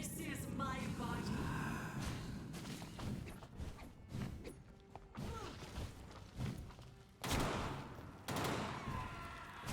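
Video-game gunfire in Vampyr comes as a string of sharp shots and heavy thuds in irregular bursts over a busy, rumbling fight, some close and loud, others quicker and clustered.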